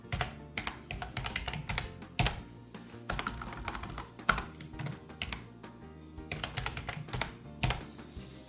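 Close, fast typing on a computer keyboard, a dense run of clicking keystrokes with occasional harder taps, continuing steadily throughout with no voices.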